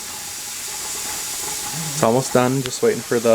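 Steady soft hiss of steam venting from a pressure canner after canning rhubarb jelly, a continuous close whoosh that runs alone at first, then continues beneath a person talking.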